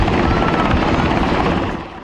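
A military helicopter of Helicopter Sea Combat Support Squadron 2 roars in flight, a steady loud rotor and engine rumble that fades slightly at the end, with no voices.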